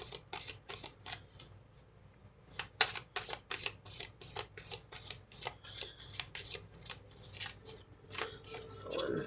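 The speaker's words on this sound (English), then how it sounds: "Let's get a couple of oracle cards out here." Oracle cards are shuffled and handled in a quick run of crisp, papery riffles and flicks, close and fairly soft, with a short pause midway before the rapid shuffling resumes.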